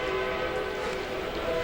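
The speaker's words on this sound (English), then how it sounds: "you can clearly hear the train whistle when they go by" A train passing behind Safeco Field, home of the Mariners, in Seattle sounds a sustained whistle, steady and tonal over a wide, busy stadium crowd wash, somewhat distant.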